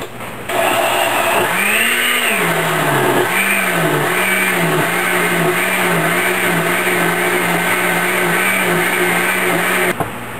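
Blender with a lid on whirring through stewed tomatoes, hot dried chilies, garlic and oregano for pizza sauce, a loud steady motor whine that dips and rises in repeated pulses as the blades churn, running alone for about ten seconds.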